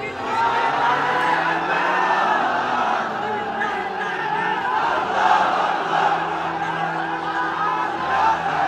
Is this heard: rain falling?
no